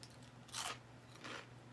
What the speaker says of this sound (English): Have you heard that crunch?